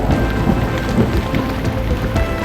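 Heavy rain pours steadily during a thunderstorm on Mont Blanc, a dense close wash of drops with low rumbling thunder rolling underneath, continuous and loud throughout.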